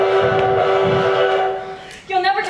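A train passes a crossing while its horn holds a long, loud tonal blast with rumbling wheels beneath, then the horn cuts off briefly and returns with a wavering, higher whistle-like tone.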